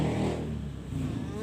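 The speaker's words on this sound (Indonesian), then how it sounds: "Ganggu, ada motor." A motorcycle passing nearby, its engine hum rising then steadily droning past at close range.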